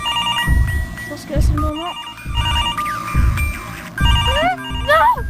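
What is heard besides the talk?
telephone ringing in the video game Mr Hopps Playhouse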